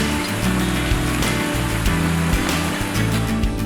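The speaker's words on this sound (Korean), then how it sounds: "그리고 끝나고 나니까 내가 할 때 되니까 또 비가 오네." Steady rain falls outdoors, producing a dense, continuous hiss and patter that is fairly loud and even throughout.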